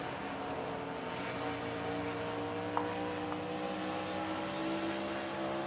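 Onboard Jessica Shelton's race car at ISM Raceway, the engine droning in a steady, loud, continuous roar with slight shifts in pitch, no voices.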